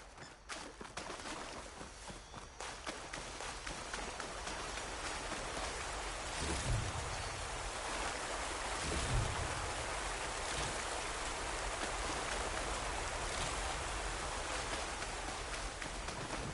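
A waterfall in the game Horizon: Forbidden West gives a constant, dense rush of falling water that starts softer and swells into a loud, steady roar.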